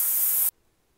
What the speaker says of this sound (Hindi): अब हम इसका ढक्कन खोल लेंगे, स्टीम निकाल लेंगे